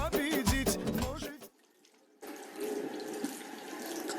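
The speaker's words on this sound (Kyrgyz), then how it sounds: "Таза жууш керек, колду." Hands being washed under a running tap, a steady close stream of water following a short burst of music and a brief pause.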